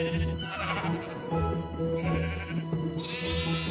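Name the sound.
sheep bleating in Minecraft video game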